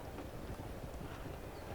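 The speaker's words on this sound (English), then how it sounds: "We don't want to bump into these horses." Horses' hooves clip-clopping in the chariot-racing video game Qvadriga, a dense, steady rumble of hoofbeats running continuously at moderate level, alone with no talking.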